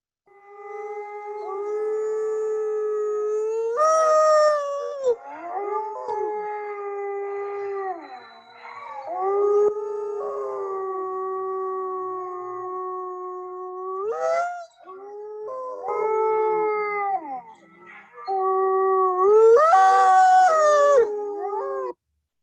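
Mexican gray wolves howl in a chorus, several long, rising and falling tones overlapping, with a few brief yips, loud and sustained for about twenty seconds and separated by short gaps.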